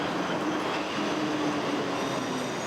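A streetcar rumbles steadily and loudly close by, a thin wheel squeal running through the roar, with no voices.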